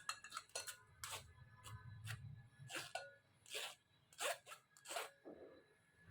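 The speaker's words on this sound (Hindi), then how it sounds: "आप मैशर से भी मैश कर सकते हैं, लेकिन मैं स्ट्रेनर से कर रही हूँ" Boiled potatoes being pressed and mashed through a kitchen strainer, giving a series of scraping and tapping clicks in uneven bursts over a soft low rumble, fairly quiet and close.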